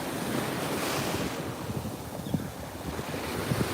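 Waves washing in at a public beach, Ocean Park, with steady broadband surf and gusting wind buffeting the microphone, continuous and fairly close, no voices.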